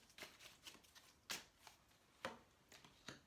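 Tarot cards are handled and shuffled at close range. Soft papery riffles and light slaps repeat irregularly, quiet and alone.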